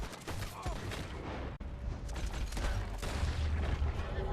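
Dense, continuous gunfire from a video game, with rapid bursts and booms layered into a loud, unbroken barrage, a brief cut near the middle, and a few faint voices mixed in.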